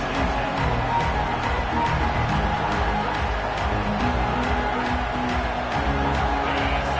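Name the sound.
football stadium crowd noise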